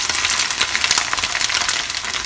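Tofu shallow frying in oil sizzles and crackles steadily, a dense close hiss with small pops running throughout, with no talk over it.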